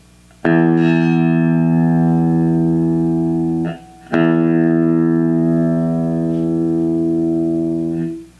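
Two long plucked notes on the open low E string of a guitar, each ringing out bright and sustained before fading, with no talking.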